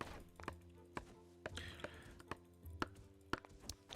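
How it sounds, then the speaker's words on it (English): Chopping trees in the factory-building video game Tower Factory: a steady series of faint, crisp chopping taps about half a second apart over a soft tonal game background. "I should probably start chopping some trees here"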